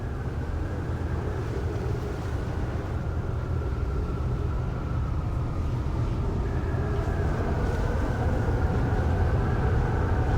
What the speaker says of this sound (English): I can hear the wind.